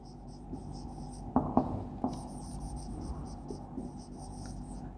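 Chalk or marker scratching on a classroom board as a teacher writes, a few distinct close taps and strokes over quiet room ambience with faint high whine.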